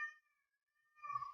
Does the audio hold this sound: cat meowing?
yes